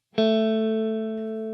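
A single electric guitar note on the D string slides up from the second to the fourth fret, played with the third finger, struck cleanly and ringing with sustain, close and alone.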